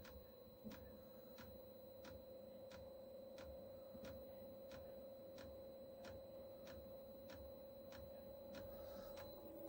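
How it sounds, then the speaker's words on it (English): The fuel pump of a Chinese diesel heater ticks steadily, about once every two thirds of a second, faint and regular over a constant hum, with no talk. "Pump's ticking again."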